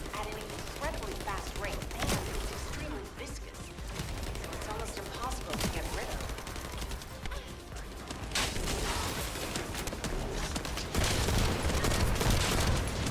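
Rifle fire in the shooter game The First Descendant, dense rapid bursts of gunshots crackling over constant battle noise and effects, with players talking throughout.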